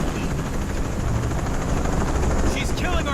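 A helicopter in the video game Shadow of the Tomb Raider thrums continuously with a heavy, rumbling rotor wash, loud and close, filling the whole stretch with dense noise.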